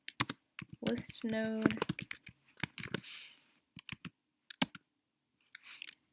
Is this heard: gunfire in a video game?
no